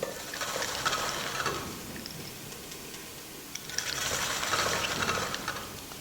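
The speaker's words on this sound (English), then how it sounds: "I'm going to be using cone 5 to shred this cabbage now" A Saladmaster food processor fitted with cone 5 shreds cabbage, giving a steady whirring, grinding churn in two sustained bursts with a brief lull between, close and fairly loud, no talking.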